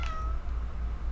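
A cat meows once in a video game, a short clear tonal call standing out alone over a low steady background hum.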